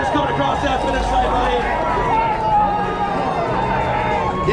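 At the finish line of the Holyoke St. Patrick's Road Race, a crowd keeps up steady cheering and hubbub. An announcer's voice talks loudly over the noise throughout.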